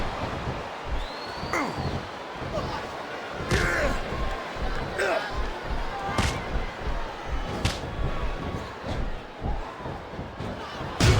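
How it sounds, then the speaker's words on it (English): Repeated heavy slams and thuds of wrestlers' bodies hitting the mat in WWE SmackDown vs. Raw 2009, a steady run of impacts over crowd noise and game sound, with a commentary voice talking. "Just listen to his body crash into the ground."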